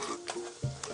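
Joseph beer poured into a pan of shallots softening in butter, a brief sizzling hiss and stirring rasp that swells sharply near the end, close and moderately loud.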